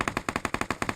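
An automatic rifle fires a rapid burst of about eight evenly spaced, loud, sharp shots in PUBG Mobile gameplay, with no voices over it.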